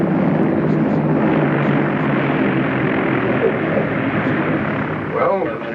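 An aircraft completes a ground-controlled approach landing on a runway. A loud, steady engine drone runs unbroken throughout, with faint voice traces beneath it.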